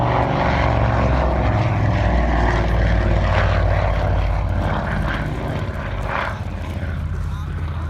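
An Avro Anson propeller aircraft flies at an air show with a loud, sustained engine and propeller drone that swells and fades slightly as it passes, close and heavy throughout.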